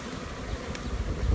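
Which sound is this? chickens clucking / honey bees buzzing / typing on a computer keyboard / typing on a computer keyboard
honey bees buzzing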